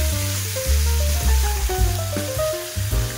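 Chicken pieces with garlic and onions fry in a pot, a steady loud sizzle with scraping stirs and low clanks of the pot throughout.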